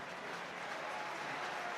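A rugby league crowd at Huddersfield applauds a try against Castleford, a steady wash of distant clapping and crowd noise that holds at an even level throughout.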